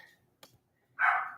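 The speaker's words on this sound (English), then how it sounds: "No, the dogs." A single short dog bark, close and fairly loud, following a faint click and near silence.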